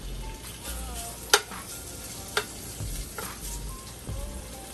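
Bacon and fatback oil sizzle steadily in a pan with vegetables, a continuous frying hiss broken by a few sharp clinks of a stirring utensil against the pan.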